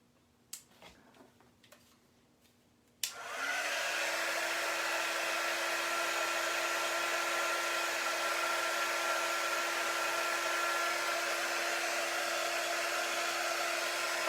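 After a few small handling clicks, a hair dryer switches on and blows hard and steady over freshly painted star-shaped cookie crafts, a loud continuous whoosh that holds to the end.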